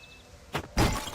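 Two quick breaking crashes of antique pots in the video game Bygone Dreams. A short crack is followed immediately by a louder, fuller shatter that rings on briefly.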